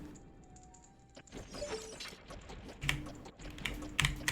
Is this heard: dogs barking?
no